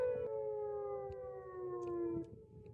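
An outdoor civil defense warning siren sounds a steady, slowly falling wail, heard from a distance outdoors with no talking, then trailing off near the end.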